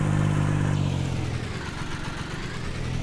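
A small utility tractor in Farming Simulator 19 runs with a steady, loud mid-pitched engine drone and a low harmonic hum, easing off slightly partway through.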